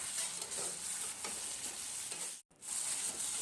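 Smashed amla and olives are stirred into hot tempering spices in a pan, with soft scraping and a gentle continuous sizzle that stops for a moment near the end. No one speaks.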